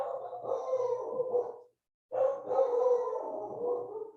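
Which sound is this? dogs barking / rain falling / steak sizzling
dogs barking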